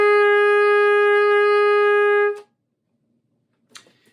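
A tenor saxophone holds one sustained B flat with the octave key pressed, steady and clear for about two seconds before stopping abruptly, followed by silence and a faint brief noise.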